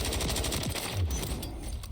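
Rapid automatic gunfire in Warzone, a fast rattling burst of shots in quick succession that carries on throughout, fairly close and steady, with no voices over it.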